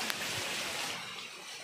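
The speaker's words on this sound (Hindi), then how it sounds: "और ये क्यारा झरना आप देख सकते हैं।" Kyara waterfall on Lugu hill pouring steadily, a broad continuous rush of water close by, with no voices over it.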